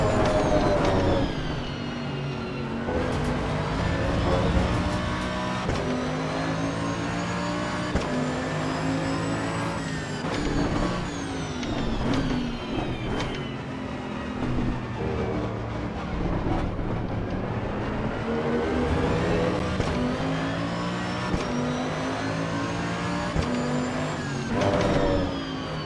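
A race car engine in the video game Assetto Corsa EVO revs hard and continuously, pitch climbing and dropping through gear changes, loud and up close with no talking.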